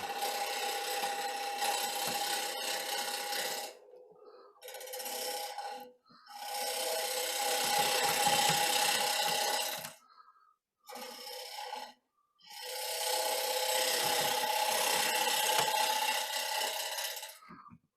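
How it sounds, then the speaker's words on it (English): Wood-turning gouge taking a pull cut on a spinning bowl, a steady raspy scraping in long bursts of several seconds separated by brief pauses, close and fairly quiet, with no talking. "I'm doing a pull cut here"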